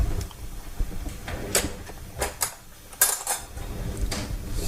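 A knife is picked up from among cutlery in a kitchen while frying beer-battered cod, with light metallic clinks and scrapes of utensils and dishes over a background hiss, irregular and close.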